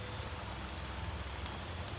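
Soft rain in a sacred forest on Mount Merapi, a faint, even patter and hiss with a low rumble underneath, steady throughout with no speech.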